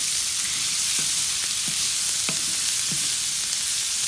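Vegetables fry in bacon grease on a Sunterra 48-inch Santa Maria outdoor grill, giving a loud, steady hiss with a few soft scraping stirs and occasional pops. No one is talking.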